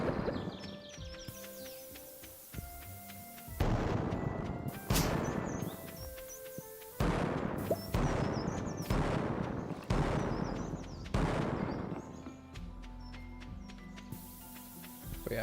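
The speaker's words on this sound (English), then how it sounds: "mega bombs save a lot of time, so I should be pretty generous with the amount I use" Mega bombs going off one after another across a field in the Stardew Valley video game, a run of loud broadband bursts with short gaps, layered over steady game music.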